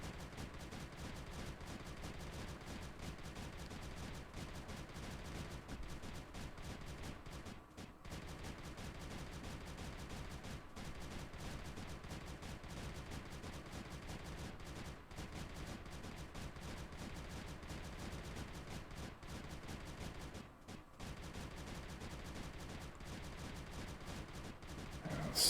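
A continuous, dense rattle of gunfire from a weapon in the strategy game Creeper World 3, Arc Eternal, rapid and steady throughout with only brief dips, fairly faint and with no voice over it.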